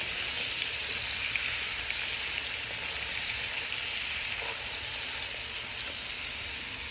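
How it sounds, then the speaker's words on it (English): Pork frying in a pan for jambalaya gives a loud, continuous sizzle, like a dense hiss of spattering fat that holds steady and alone throughout. "All right, so we got our pork cooking"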